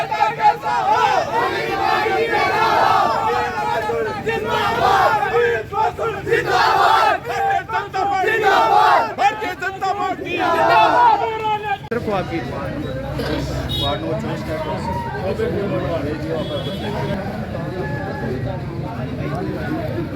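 Dense crowd of supporters roars and chants at a BJP rally for municipal council election tickets, a loud continuous mass of voices with shouted slogans rising and falling throughout.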